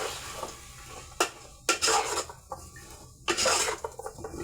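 A spoon scrapes and clatters around a pot of vegetable soup with onion, a few sharp metallic knocks among softer rubbing strokes, close and alone.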